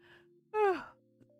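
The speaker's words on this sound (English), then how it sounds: "I say as I fucking yawn right there." A single short yawn, a breathy rising-then-falling vocal exhale lasting under half a second, close and fairly soft against a quiet background hum.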